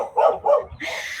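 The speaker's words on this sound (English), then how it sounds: "we may just have barking dogs" Dog barking in two loud, close bursts, each a rough yapping bark, followed by a steadier brighter noisy sound; no voices.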